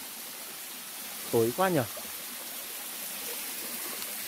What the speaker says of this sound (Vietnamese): Ui, chỗ trước mặt mình là một cái thác mọi người.